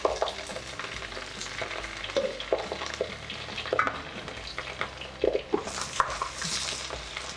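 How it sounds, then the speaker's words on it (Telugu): Green chillies and curry leaves hit hot oil in a village kitchen pan, giving a steady dense sizzle with stirring scrapes and clinks, close and moderately loud. "పచ్చిమిరపకాయలు, కరివేపాకు ఒకటేసారి వేస్తున్నా."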